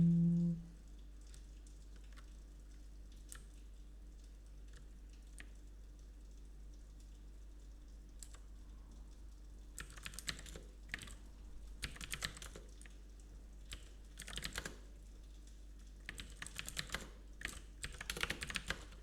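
Someone types on a computer keyboard in quiet bursts of clicks, sparse at first and then quicker clusters of keystrokes over a low steady hum.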